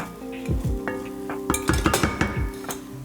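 Food scooted across a frying skillet with a utensil during a one-skillet chicken sausage hash, giving several close scraping and clinking strokes over a steady sizzle.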